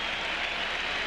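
Crowd at Fenway Park cheering a Pedro Martinez strikeout in a 2002 Red Sox game: a loud, steady, broad roar with no breaks, carrying on through the moment.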